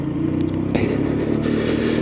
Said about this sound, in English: Cobbled pavements, which still feel weird to ride over.